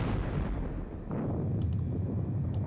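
Gunfire from the Gettysburg war game WDS Gettysburg booms as a loud rolling volley of musket and cannon fire, dense and rumbling, with a few sharp high clicks near the end.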